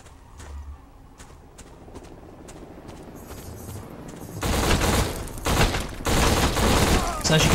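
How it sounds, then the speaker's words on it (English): Automatic gunfire in a night forest shootout in the video game Black by Criterion Games, sporadic shots at first, then loud sustained bursts of rapid fire in the second half, with a voice talking over it. "I must have emptied half a magazine into him, and he was still shooting at me."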